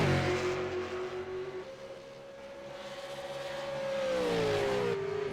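Race cars battling for position at Canadian Tire Motorsport Park, heard as a steady engine drone that dips and then rises again as the cars shift and pass, moderately loud throughout.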